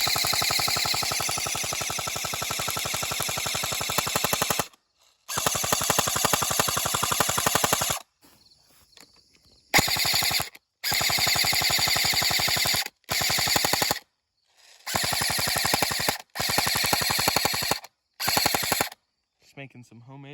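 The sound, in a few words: airsoft M249 firing at apples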